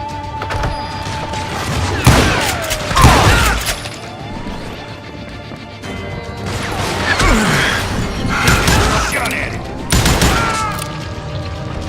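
Rapid gunfire bursts and heavy impacts from the Western shooter Call of Juarez: Gunslinger, loud volleys in two main clusters over a constant game soundscape.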